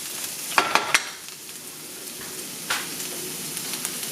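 Broccoli, peppers and mushrooms stir-fry in oil with a steady sizzle, broken by a few sharp clicks and scrapes as the vegetables are tossed, with no talking.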